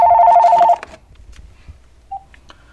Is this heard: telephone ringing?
yes